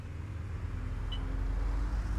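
Simulated Volvo B5LH bus engine in OMSI 2, a steady low rumbling drone with a faint brief whine partway through, continuous and fairly close throughout.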